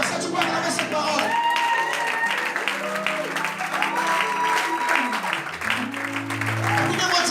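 A church congregation breaks into sustained applause and cheering for a preacher, the clapping steady and loud throughout, with voices and music tones mixed in.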